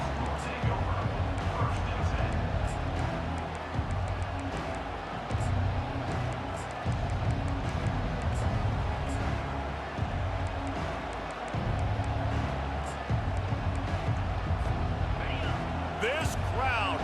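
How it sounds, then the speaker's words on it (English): A loud college football stadium crowd at a UNC game roars in a steady, full-throated wall of noise for the whole stretch, with a commentator talking over it. "This crowd, full throat, splitting the eardrums"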